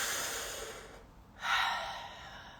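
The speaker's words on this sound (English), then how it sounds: "So breathe through your mouth." Slow, audible breaths drawn in and pushed out through the mouth during a guided breathing exercise, a soft airy exhale, a short pause, then a stronger breath, close and alone with no talking.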